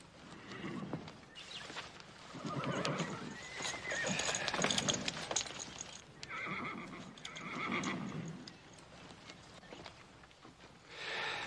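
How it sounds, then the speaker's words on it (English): A black horse in a Western setting whinnies repeatedly while its hooves clip-clop, with rising and falling neighs spread across the stretch, fairly close and uncluttered by talk. "Dolly, slap a saddle on this black horse."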